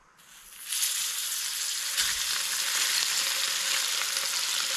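Trout sizzles steadily in a pan at a campsite, a loud, continuous frying hiss that swells in after a quiet start and holds through the end with a brief crackle partway through.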